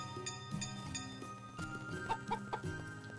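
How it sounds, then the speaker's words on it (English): Chicken clucking in the farming game Story of Seasons: Pioneers of Olive Town, a few short clucks over steady game background music. "bring the chicken out"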